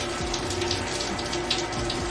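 A house tap with very weak water pressure runs in a steady, thin hiss, continuous and close throughout.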